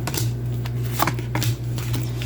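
Tarot cards shuffled by hand during a reading, with a steady run of soft riffling flicks and slaps, close and continuous over a low background hum, with no talk.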